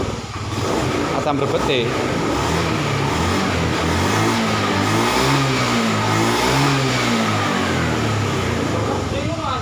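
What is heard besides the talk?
Honda Beat FI scooter engine being revved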